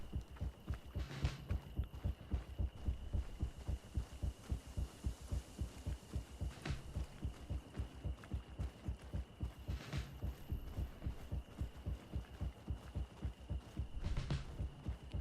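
In the game Greedfall, a looping heartbeat thuds on and on at a quick, regular pace, deep and close, layered over a soft ambient hum with occasional faint clinks and no speech.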